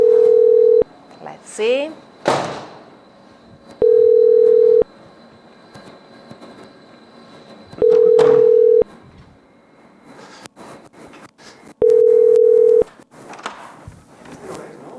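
A landline telephone gives a steady dial tone and a burst of rapid dialing tones, then repeated ringback tones at regular intervals, while a person speaks briefly in a room next to a telescope control room.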